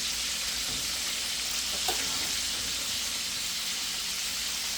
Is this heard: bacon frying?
yes